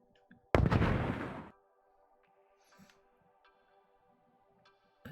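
A single loud gunshot from a gun in a video game cracks out near and hard, its noisy tail fading over about a second before a faint steady hum with small ticks carries on alone.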